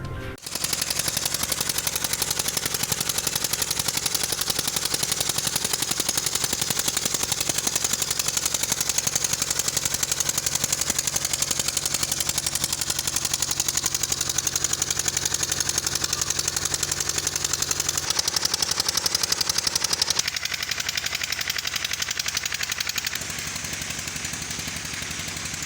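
Sand mining machines working on a riverbank give a loud, steady mechanical roar with rapid rattling, continuous throughout with no talk, shifting in tone near the end.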